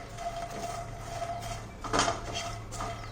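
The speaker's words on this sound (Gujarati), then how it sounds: "તમે મખાના શેકતા હોય ત્યારે એકદમ સ્લો ફ્લેમ ઉપર જ આપણે એને શેકીશું." Makhana (fox nuts) dry roasting in a kadai over a slow flame, with soft scraping and light metallic clinks of a spatula against the pan, steady and close, with one louder stir near the middle.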